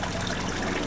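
Water trickles and gushes steadily through the built-in siphon drain of an aquaponics grow bed, a dense continuous splashing that fills the whole moment at close range.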